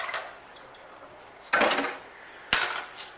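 A knife slices through a potato on a countertop in two sharp chopping strikes about a second apart, each followed by a short scraping ring, with a softer cut at the start.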